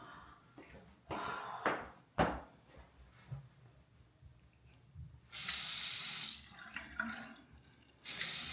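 Water splashes and runs from a newly repaired bathroom sink faucet in gurgling bursts, with a strong steady stream toward the end, close and moderately loud with some handling noise in between.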